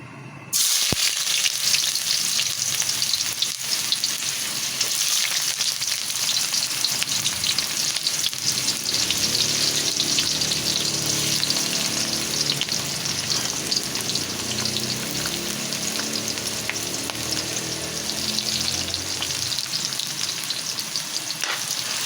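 Dinuguan cooking in a pan with special pork intestines (isaw) added, giving a loud, steady sizzle and crackle of frying that runs the whole time with occasional stirring, and no talking.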